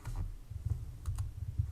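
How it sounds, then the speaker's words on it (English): Keys clack on a computer keyboard in a short run of quiet, close presses with small gaps between bursts, and no talking. "I'll start typing it"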